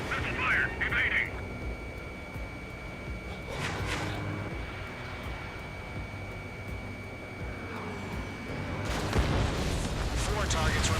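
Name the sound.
missile launch in Ace Combat 7 video game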